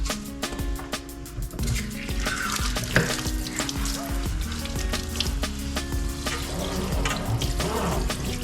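Water runs from the tap while a kitchen sink is cleaned, a continuous splashing rush mixed with clinks and knocks of dishes and scrubbing, fairly close, with no talk over it.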